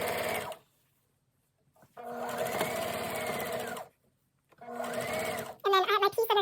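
A sewing machine runs straight stitching along a length of fabric for a patchwork skirt, in two steady whirring bursts separated by short pauses, with brief talk at the end.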